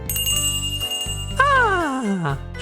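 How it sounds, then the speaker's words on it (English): A cafe door chime rings as someone enters, giving a bright tinkling bell tone that rings out and slowly fades, heard alongside other background sound. "Eventually I hear the sound of the door chime as someone enters the cafe."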